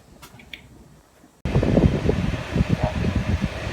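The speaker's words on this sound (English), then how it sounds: "Air conditioner's blowing because it is almost 100 degrees again today." An air conditioner blows on a near-100-degree day, a broad steady rush of air that switches on abruptly partway through and then holds loud and close, with faint knocks before it starts.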